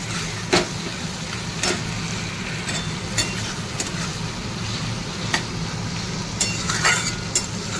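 Onions and prawns frying in a pan for a Bengali prawn do-pyaza make a steady, close sizzle, broken by scattered clinks and scrapes of stirring. No one speaks.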